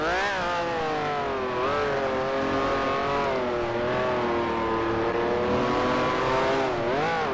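A Ferrari race-car engine in Grand Prix Legends, a 1967 Formula 1 sim racing online at Portland, holds a loud, steady high-pitched whine that rises and falls with brief revs and shifts.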